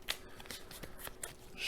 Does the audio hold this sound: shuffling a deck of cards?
yes